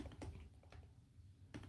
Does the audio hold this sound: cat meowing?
no